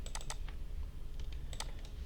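Clicks from a computer keyboard come in short bursts of quick, light taps, a few keys struck in quick succession, then a pause, then another cluster, faint and close against a quiet room hum.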